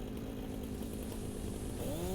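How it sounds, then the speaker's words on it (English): A biofuel-powered chainsaw in the Satisfactory video game drones steadily as it cuts wood, a continuous buzzing roar that rises in pitch toward the end, with no talking. "So now what we do is you put the chainsaw in our hand"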